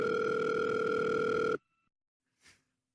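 A telephone ring tone sounds steadily and loudly for about a second and a half, then cuts off into near silence, followed by a faint brief noise.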